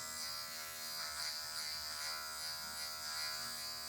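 An electric hair clipper cuts a mid fade, its tip working in small C-shaped strokes, giving a steady, close, even buzzing hum with slight swells and no talk.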